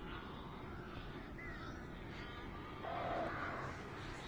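Crows caw in a video game, harsh calls rising over a steady droning background, with a louder burst of cawing near the end.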